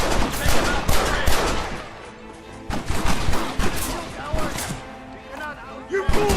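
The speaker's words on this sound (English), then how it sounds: "Marston, use that Gatling gun!" A Gatling gun rattles in Red Dead Redemption, loud rapid bursts of fire in several waves with brief lulls, mixed with other shots and crashes while voices shout throughout.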